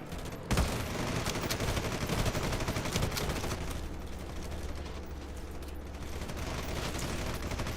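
Sustained machine gun fire in the real-time tactical shooter game Red Solstice 2, a dense, rattling stream of rapid shots that keeps going with little letup over a rumbling background.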